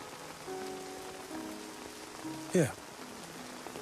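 Steady rain falls on surfaces in a TV show scene with a soft, constant hiss under quiet background music, and a person speaks briefly partway through.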